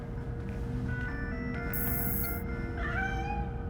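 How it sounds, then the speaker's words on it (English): A cat meows in the Gotham Knights video game, several drawn-out rising cries heard over a steady game soundtrack hum, with a brief high electronic tone partway through. "You're telling me a cat managed to break through a world-class security system?"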